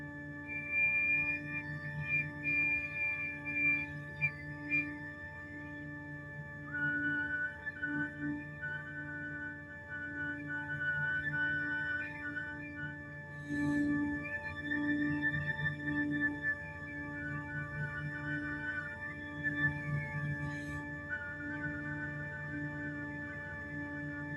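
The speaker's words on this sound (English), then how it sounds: "let's take just a minute or two to practice getting those whistle tones out" Flute whistle tones sounded on the note D, a series of soft, pure, high whistling pitches that shift between harmonics, held and restarted repeatedly over a steady sustained tone, with no talking.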